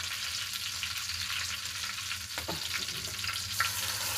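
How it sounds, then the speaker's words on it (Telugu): Green chillies go into oil with fried onions, giving a continuous bright sizzle and crackle with a short louder burst of spattering partway through, in a home kitchen making chicken dum biryani; no voices. "ఫ్రై అయిన ఆనియన్స్లోకి పచ్చిమిర్చి వేస్తున్నానండి"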